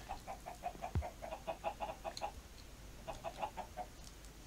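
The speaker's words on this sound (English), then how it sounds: "The chicken's wounded." Wounded chickens in Minecraft with the Resonant Rise modpack cluck in a soft, repeated patter of short clucks, quiet and fairly steady, with no one talking.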